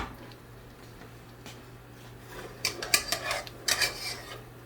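Lid being lifted off a pan of pan-fried haddock in a home kitchen, a cluster of clattering metallic clinks and scrapes in two short bursts over a quiet, humming background.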